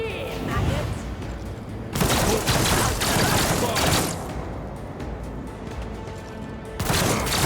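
A big gun fires in the game Rogue Trader, dense bursts of heavy gunfire in roughly two-second blocks with thumping impacts, loud and close, while a voice talks over parts of it.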